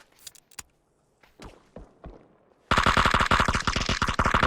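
Rapid automatic gunfire in a PUBG match, a dense loud burst taking up the second half after a few scattered single shots and footsteps, with no talk over it.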